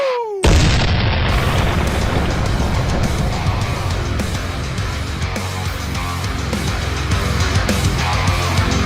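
A loud, sustained cannon-fire boom opens a podcast intro, hitting abruptly after a brief rising whistle and then rolling on as a dense, thundering roar with no voices over it.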